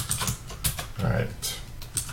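Irregular bursts of keystrokes on a computer keyboard, close and moderately loud, with uneven pauses between clusters.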